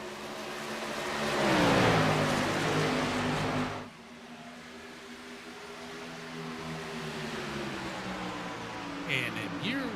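Race car engines drone in an iRacing NASCAR Xfinity race at Chicagoland Speedway, a steady multi-car whine that swells as cars pass close and then settles into a steadier hum. A commentator talks over them.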